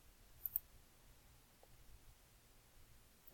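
A computer mouse gives two quick, soft clicks close together near the start, faint against a quiet room hiss with no talking.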